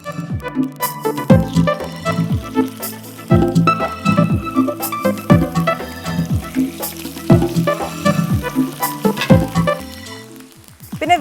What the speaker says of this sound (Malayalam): ഇപ്പം എൻ്റെ എണ്ണ എണ്ണ നല്ലോണം ചൂടായിട്ടുണ്ട് ഞാൻ മീനിടാം